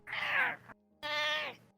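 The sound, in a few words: pet cat Shenron meowing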